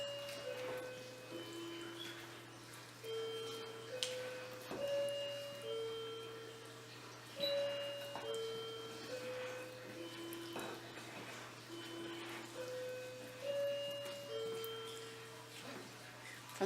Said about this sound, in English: that is actually a clock in the background